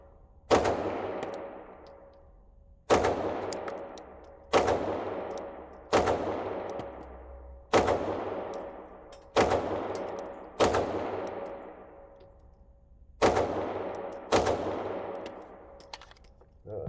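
Shots from an Archon Type B pistol at a shooting range crack out one at a time, about eight sharp reports spaced a second or two apart, each followed by a ringing decay in the open air.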